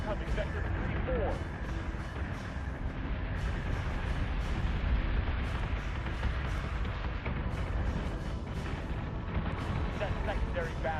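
Warship gun batteries fire in the Battlestar Galactica Deadlock space battle game, a dense, continuous barrage of booms and rumbling blasts under voices issuing commands.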